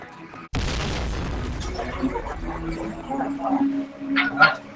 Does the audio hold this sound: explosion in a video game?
yes